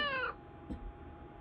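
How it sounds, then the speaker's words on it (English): A cartoon cat sound effect from Scratch, a single short meow at the start, then quiet with faint clicks. "hear the cat go"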